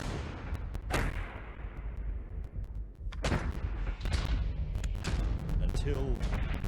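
Gunfire rings out in a battle reenactment at Parramatta against the warrior Pemulwuy: a scattered volley of sharp, loud shots at irregular intervals over a dense, rumbling din.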